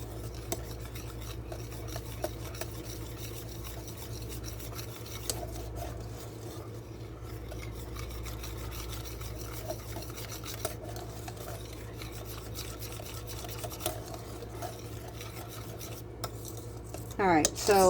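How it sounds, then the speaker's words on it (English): A whisk stirs homemade mustard ingredients in a bowl, producing a continuous quiet scraping and rubbing for a long stretch, with occasional light clinks against the bowl and a louder rattle at the very end. "I'm going to take my whisk and I'm going to mix all of this up"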